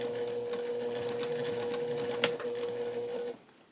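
A sewing machine runs slowly and steadily at close range while finishing a cross stitch piece, its motor hum carrying a fine rapid stitching rattle for about three seconds before stopping abruptly.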